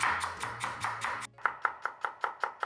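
Knife chopping onion on a cutting board for a sambal-style sauce, first a quick run of dull chops over a low hum, then a steady series of crisp, evenly spaced knocks, close and clear with no talking.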